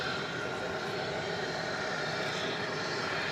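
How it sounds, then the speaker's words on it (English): An American Eagle E-Jet landing at night at DFW Airport, a steady broadband engine roar holding at even loudness throughout, with no one talking. "when an American Eagle E-Jet comes in"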